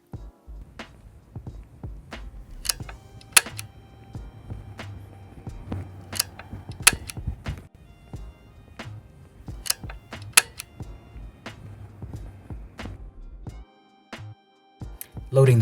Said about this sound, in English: Loading the film.